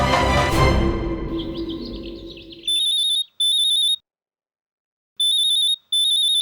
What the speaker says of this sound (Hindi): लगता है गोपी वो अपना मोबाइल फोन यहीं भूल गई